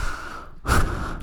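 A voice imitates a child breathing heavily into someone's face, with a single loud, rough gasping breath after a moment of quieter background.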